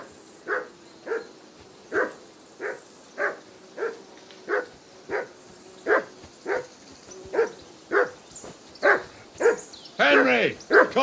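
A dog in the medieval game Kingdom Come Deliverance 2 barks in a steady rhythm, about a dozen evenly spaced barks at moderate distance, and a voice speaks near the end.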